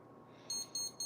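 Electronic kitchen timer on a countertop, beeping as its buttons are pressed. Three short, high, clean beeps come in quick succession over a quiet background.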